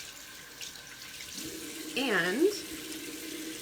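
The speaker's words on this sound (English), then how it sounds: "rinsing my hands off" Tap water runs steadily into a bathroom sink while someone rinses soap off their hands, with a brief burst of splashing partway through and one spoken word near the start.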